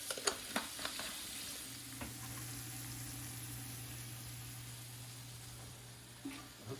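Onions fry and sizzle steadily in a pan, a continuous crackling hiss with a few light stirring clicks near the start and a low steady hum underneath, fairly quiet and with no voices.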